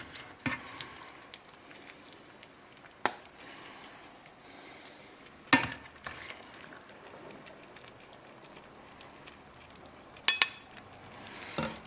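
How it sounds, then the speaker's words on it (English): Vegan ratatouille being scooped onto a plate, with a few scattered clinks and scrapes of a utensil against the dish over a soft, wet, quiet background, the sharpest knocks clustered near the start, middle and end, without speech. "I'm just going to scoop some onto the plate"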